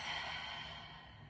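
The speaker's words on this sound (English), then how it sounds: "And exhale it out through the mouth." A single long breath pushed out through the mouth during a yoga stretching session, a soft breathy sigh heard close and quiet, fading gradually over about a second.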